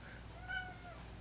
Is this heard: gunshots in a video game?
no